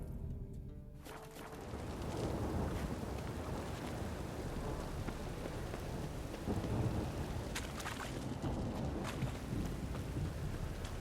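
Heavy rainstorm from The Witcher 3: Wild Hunt, with a steady loud downpour and rolling thunder rumbling throughout, a sharper crack near the start and more bursts toward the end, no voices.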